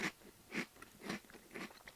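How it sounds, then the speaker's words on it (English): Crunchy butter-corn flavored rice snack being chewed up close, with four distinct crisp bites spaced about half a second apart, each a loud crackling burst fading into quieter munching between them. "It's a very crunchy rice snack, flavored like butter corn."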